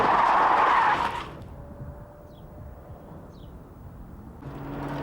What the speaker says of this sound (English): she was driven onto the practice track and taken for a quick spin